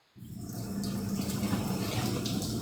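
Water pours from a household shower, bursting on abruptly and settling into a constant dense spray, close and continuous, with no voices.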